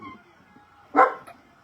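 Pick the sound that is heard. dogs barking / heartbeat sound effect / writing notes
dogs barking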